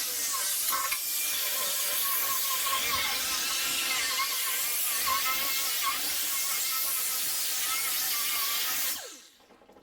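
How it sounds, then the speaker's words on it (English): An abrasive grinding wheel works down the surface of a used metal oil pan, giving a steady, loud, hissing broadband grind that runs unbroken for most of the clip, then cuts off abruptly near the end. "take my wheel and we're going to go ahead and grind this down"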